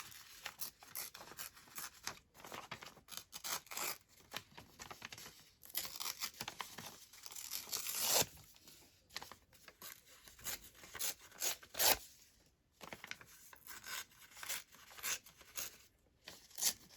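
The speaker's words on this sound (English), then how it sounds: "I might just tear this one out." Paper pages tear out of a book in several ripping, crinkling bursts at close range, broken by short pauses and handling rustles, with no voices.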